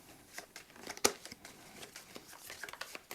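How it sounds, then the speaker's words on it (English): A deck of trick cards for a tabletop board game being shuffled, giving light papery riffling and crinkling ticks at close range, with one sharper snap early on, quiet and with no talk. "Take your trick cards and we're gonna shuffle our deck."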